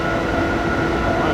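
Cargo haulage train rolling past in Train Sim 2014 on the Three Country Corner route, a steady, loud rumble of wagons and rails filling the whole moment without any talk.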